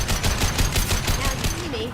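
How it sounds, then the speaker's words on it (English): High-impact gunfire in Mass Effect 2 combat, a steady rapid string of loud, punchy shots rattling at an even rhythm for about two seconds. "Fire a high impact shot!"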